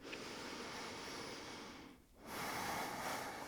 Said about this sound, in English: And one more breath.